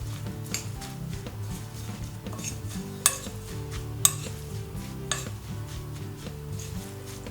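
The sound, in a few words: stirring granola mixture with tahini and date sweetener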